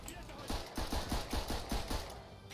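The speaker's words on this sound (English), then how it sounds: "This is one of the few machine guns in the whole game" Machine gun in the World War I shooter Verdun firing bursts of rapid, evenly spaced shots, about eight sharp reports at close range amid a noisy battlefield backdrop.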